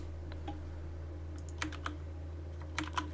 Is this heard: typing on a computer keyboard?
yes